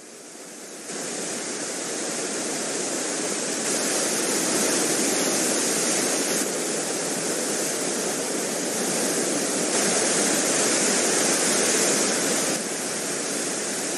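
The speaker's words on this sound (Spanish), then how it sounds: "El deshielo continúa en verano y nutre de caudalosas aguas al río Abiskojoka, que atraviesa el parque formando un valle" Meltwater-swollen Abiskojoka river rushes through its valley in a dense, steady roar of flowing water, loud and unbroken throughout.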